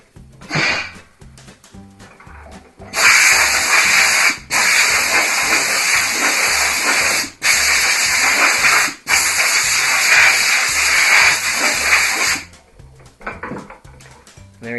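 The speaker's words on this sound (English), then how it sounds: "it's a Vacuform table" A professional vacuum forming table with ceramic infrared heating elements runs with a loud, broadband roaring hiss that comes in long bursts, cutting out briefly several times before stopping.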